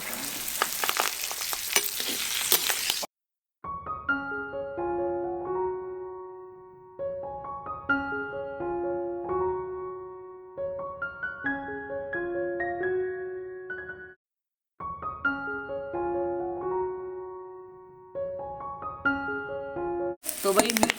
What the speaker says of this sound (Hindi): तो भाई तेल गरम हो गया और अब इसमें ये मिर्च डाल देते हैं।